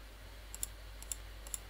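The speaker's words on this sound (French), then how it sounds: "Hop, j'ai fait deux clic de souris et ça disparaît" Three quick pairs of faint computer mouse clicks on a near-silent desk, evenly spaced a little under half a second apart, each pair a light double tap with a steady low hum beneath.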